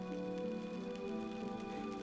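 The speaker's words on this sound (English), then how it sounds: "It's a rainy day, or it's hailing today." Soft steady rain falling in the video game Book of Hours, a faint continuous patter under low sustained tonal music, brief and quiet.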